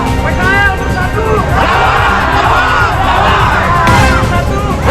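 A protest crowd of street vendors in Bandung shouts a chanted response in unison, loud and close, rising in a few swelling bursts of massed voices with cheering and whoops.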